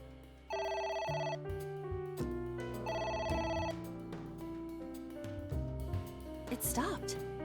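A telephone rings repeatedly in the AI: The Somnium Files video game, a steady electronic ring pattern under game music.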